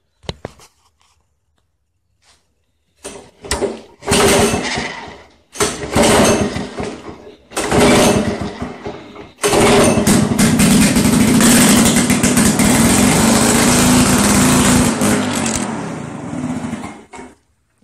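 A Lawn Boy L21ZPN lawn mower engine is pulled several times with short sputtering bursts, then catches and runs loud and steady, a harsh noisy close-up roar that cuts off at the end.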